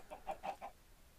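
Minecraft chickens give a quick run of four soft clucks, faint and fairly close, then fall silent with no voices.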